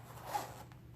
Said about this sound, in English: the zipper is really smooth too